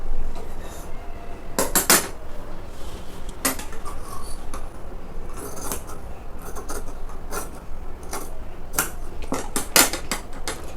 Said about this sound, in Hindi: अब हम इसकी कटिंग कर लेते हैं।